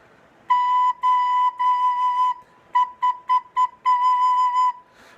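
A recorder plays a single steady high B note repeatedly: several sustained tones, then a quick run of short tongued notes, then a longer held note.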